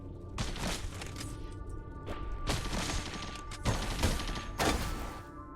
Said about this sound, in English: it's a chain gun turret